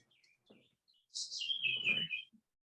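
A single bird chirps in a bright, rising and falling trill of about a second, fairly close and clear, with faint murmurs of conversation around it.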